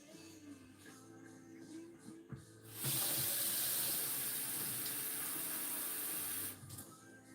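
Water runs steadily from a household tap while filling a container, a loud sustained hiss that starts abruptly and cuts off cleanly after a few seconds, with quiet room background on either side.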